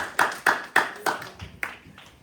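A church congregation claps together at a Sunday worship service, six or seven sharp, evenly spaced handclaps about a quarter second apart, fairly close and loud, then thinning out and fading.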